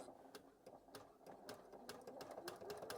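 An embroidery machine stitching an in-the-hoop bag design, its needle clattering in fast irregular bursts over a steady mechanical whir, close and continuous.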